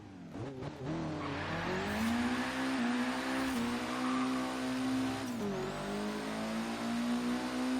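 A Mitsubishi Evo VIII in Forza Horizon 3 revs loudly at launch, its engine note climbing steadily in pitch with brief shift dips, accompanied by tire squeal, sustained and close.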